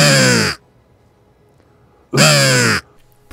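Two loud, harsh crow caws close by, separated by a silent gap of about a second and a half, with a third call just starting at the end; heard on Fanø, an island where crows threaten ground-nesting birds.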